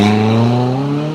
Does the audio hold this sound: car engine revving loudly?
yes